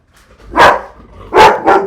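Winnie the dog barks three times close up, one sharp bark followed after a pause by two quick barks in succession, with no talk.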